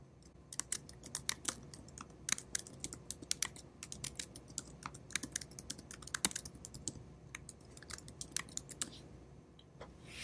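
Typing on a computer keyboard, rapid irregular key clicks at a fairly close, quiet level, running steadily with short pauses and no talking.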